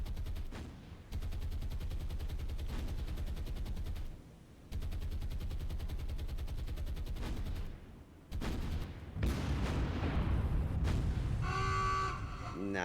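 Naval gunfire from battle cruisers armed with 12.6-caliber guns in War on the Sea, a long rapid barrage of rattling shots broken by short pauses, ending in heavier booming blasts with some speech mixed in.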